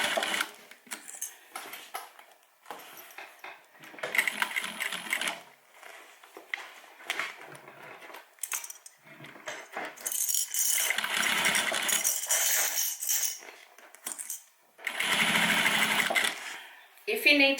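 Sewing machine stitching a homemade airline cabin bag, bursts of rapid mechanical whirring and rattling that start and stop repeatedly, near and fairly loud, with fabric rustling in the pauses.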